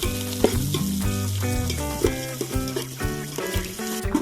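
Onions and green chillies frying in oil with biryani spices, a steady close sizzle with repeated stirring scrapes and clinks of a utensil against the pan throughout.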